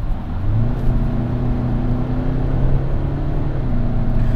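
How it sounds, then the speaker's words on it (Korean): Hyundai Palisade SUV accelerating in comfort mode, heard from inside as a loud, steady low engine drone and road rumble that rises smoothly with only a gentle shift, with no talk. "컴포트 모드에서 한번 또 가속을 해볼게요"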